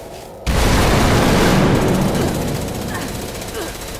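A short laser pistol fires in the video game Fallout 76, a sudden loud burst at the start that stays dense and rattling before trailing off, with a voice talking alongside.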